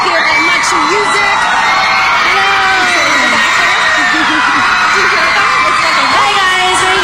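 A large crowd of girls screams and cheers without a break at a Hilary Duff appearance at the MuchMusic studio. The shrill, loud wall of sound has voices talking over it.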